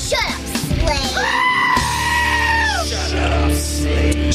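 A goat bleat sound effect rings out loud and close, a long wavering bleat that rises and then trails off, preceded by a few short, rough cries.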